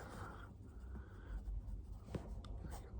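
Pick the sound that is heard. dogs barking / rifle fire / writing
writing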